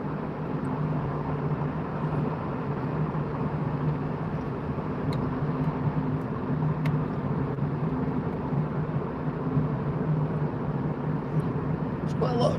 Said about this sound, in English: White van is now overtaking me